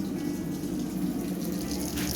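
A tap in an apartment in Ulyanovsk, Russia, runs hot water fed by a geyser, giving a steady, fairly loud, unbroken rush of flowing water.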